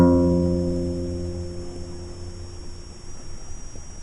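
A single guitar note played on the sixth string at the first fret rings out clearly and slowly decays over a few seconds, with a faint electronic hum underneath.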